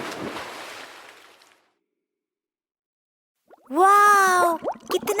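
A cartoon splash as a mango dives into water in a children's nursery rhyme, a noisy watery burst that fades away into silence before a bright, tonal voice-like sound rises afterward.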